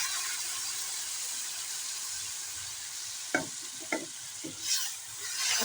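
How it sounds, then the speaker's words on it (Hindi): Ground tomato and green chili paste frying in a curry pan for spinach and beef ball gravy, a low steady sizzle with a few louder wet stirring scrapes toward the end. "अब हम डाल लेंगे टमाटर और हरी मिर्च जो हमने जूसर में पीस कर रखी थी।"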